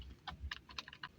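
Keys tapped on a computer keyboard in short, uneven bursts, a handful of close clicks spread over about a second, fairly quiet with no voice.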